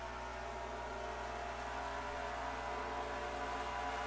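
Race cars in a Daytona 500 sim racing game drone with a constant, even engine tone as the pack runs together, with no talk.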